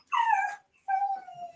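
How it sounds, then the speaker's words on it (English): A dog gives two drawn-out whimpering yips in close succession, each a high, whiny cry that slides downward, near and clear against a quiet room. "And there's that dog again."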